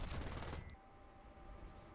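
Cannons on an F-4D Skyray jet in War Thunder fire a fast, loud burst for about half a second and then cut off, leaving a faint engine hum.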